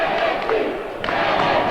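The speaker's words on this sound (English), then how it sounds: "The crowd is all worked up." A high school boys' basketball crowd in a gym roars and cheers in a loud, sustained wash of voices after a dunk, with a few sharper shouts rising out of the din.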